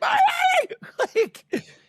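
A person lets out a shrill, strained scream, a drawn-out cry that breaks into shorter yelping bursts, loud and close.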